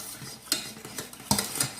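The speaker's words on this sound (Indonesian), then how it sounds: "Jadi kita memasak terigunya dulu dengan menteganya." A utensil stirs flour and butter cooking together in a pan, giving a few close clinks and scrapes against the metal at an uneven pace with quiet gaps between them.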